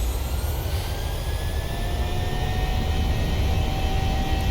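Jet engines of a PMDG 737-600 in MSFS spool up with a steady, loud roar and rising whine tones, continuous and close for several seconds.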